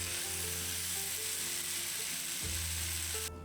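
Stuffed beef rolls browning in a frying pan, a steady close sizzle with crackling spatter, alone, over a low constant hum that cuts off abruptly at the end.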